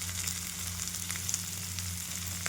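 Cumin seeds, coriander and tamarind sizzle steadily in a hot frying pan, a continuous close crackling fry with no talk.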